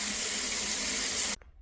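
Water runs steadily from a shower head or tap, rinsing over a shower drain grate with a constant hissing splash, then cuts off abruptly near the end, leaving near silence.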